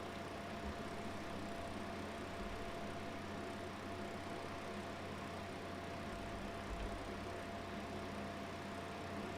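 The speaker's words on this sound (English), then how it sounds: "This is a bouncy tractor." A bouncy tractor in a video game drives along with a steady, faint, low engine drone that stays even throughout without any breaks.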